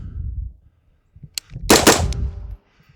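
Rifle fired from the shoulder, a sharp crack followed by a loud, sustained burst of gunfire close by, trailing off into quiet.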